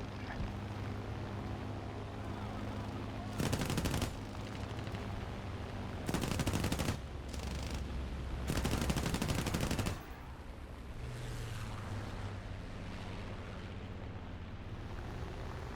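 Aircraft machine guns from a P-36A Hawk in War Thunder fire in three loud, dense bursts of a second or so each, set against a steady engine drone, with no voices heard.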